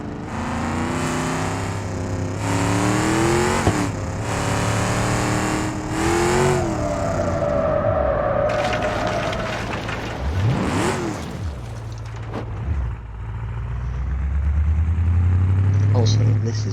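A Civetta Scintilla sports car in BeamNG.drive revs and drives, its engine note rising and falling through gear changes with a long tonal sweep, loud and close, while someone talks over much of it.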